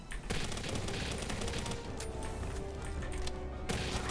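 Rapid SMG gunfire in the survival video game Palworld, a dense, continuous burst of shots lasting several seconds, loud and unbroken, with no talk over it.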